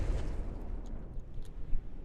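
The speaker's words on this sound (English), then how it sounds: "ship being straight up punched down by an explosion" A ship in a naval battle game takes an explosive hit: a low, rumbling boom with scattered crackling bursts, moderately loud, with no voices.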